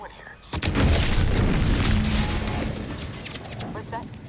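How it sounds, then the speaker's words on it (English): A sudden loud boom erupts in the video game The Outer Worlds 2, followed by a sustained rumbling roar and scattered crackling debris that slowly fades, with a voice speaking over it. "What's that? An explosion?"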